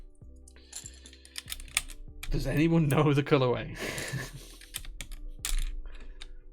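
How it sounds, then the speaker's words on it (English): DSS keycaps are pulled off mechanical keyboards, producing sharp, scattered plastic clicks and taps before and after a person speaks. "these are DSS keycaps that we're taking off"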